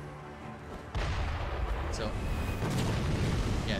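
Cannon fire erupts in the feudal-Japan world of Sekiro, a sudden loud boom followed by sustained rumbling roar, with a voice speaking briefly just before the blast.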